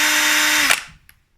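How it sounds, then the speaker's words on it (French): An electric drill whirs steadily at full speed, spinning a dynamo from a crank-powered lamp, then stops abruptly and winds down to silence; close and loud, no talk. "j'ai ma perceuse, je bloque ici, donc là ça tourne"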